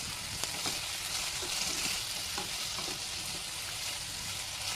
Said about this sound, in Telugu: తర్వాత క్యారెట్ ముక్కలు, బంగాళదుంప ముక్కలు యాడ్ చేసుకోవాలి. ఒకసారి బాగా తిప్పుకోవాలి.